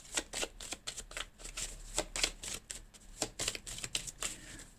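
Tarot cards being shuffled by hand before drawing a final card, a rapid run of close, crisp riffling flicks with uneven rhythm and no talking.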